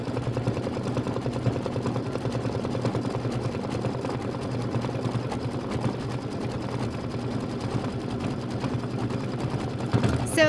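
An embroidery sewing machine runs a steady, close motor hum with a dense rapid needle rhythm while it stitches a decorative stitch around the top of a bottle cap on a Halloween-themed project, continuous throughout.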